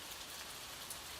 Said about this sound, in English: let the gentle patter of rain outside soothe your mind